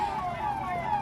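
Siren of a fire brigade vehicle responding to a tent fire at the Mahakumbh fairground, a steady wailing tone sounding continuously and fairly close throughout.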